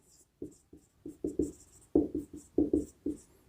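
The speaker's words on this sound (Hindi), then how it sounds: "तो इसकी डेफिनेशन भी लिख लेते हैं एक बार" A pen writing a definition by hand on paper, rapid scratchy strokes in short uneven bursts, close and distinct with no voice over it.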